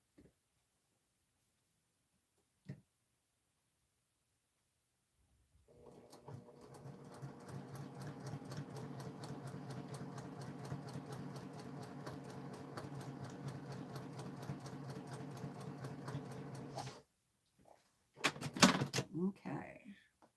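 Sewing machine stitching quilt pieces one after another without cutting the thread, a steady fast mechanical whirr running about eleven seconds, followed by a brief burst of handling noise at the end.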